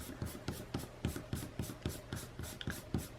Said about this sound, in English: I am going to erase all my guidelines